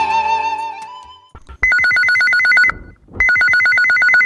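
A telephone ringtone on a radio phone-in request show rings loudly in two long bursts of rapid repeated trilling tones with a short pause between them, following a few seconds of fading music.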